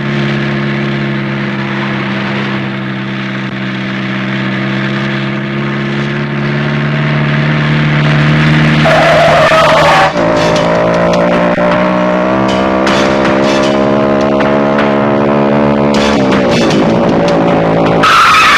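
A car pulls away with engine revving and tires squealing and skidding, loud and close, the engine note climbing through rising harmonic whines with bursts of sharp tire screech, no talking.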